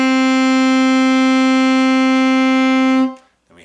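A single sustained alto saxophone note A, steady and rich in overtones, held for about three seconds and then cut off cleanly, played alone in a beginner lesson setting.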